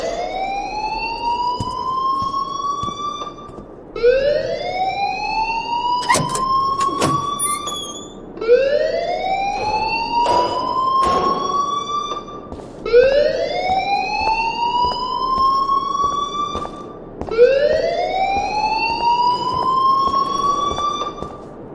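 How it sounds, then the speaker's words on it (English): A school alarm wails in the Life Is Strange game, five long rising siren sweeps repeating every few seconds, loud and near, with faint clatter and scuffs between them. "please turn off that alarm since that's your job"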